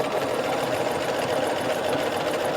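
A sewing machine stitches knit dress fabric made from Simplicity pattern 9011. It gives a steady, close, even whirring hum with a fast rhythmic needle pulse throughout and no talking.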